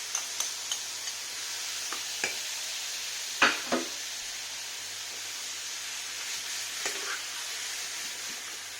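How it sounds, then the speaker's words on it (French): Chopped mushrooms frying in oil and butter in a pan, a steady broad sizzle with a few sharp ticks and stirring clicks scattered through, no talking. "Je vais ajouter mes champignons hachés."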